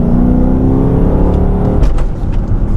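2013 Dodge Charger R/T V8 engine droning loudly from inside the car, then a sharp rev blip and shift as the paddle shifters drop a gear, followed by rougher rumbling.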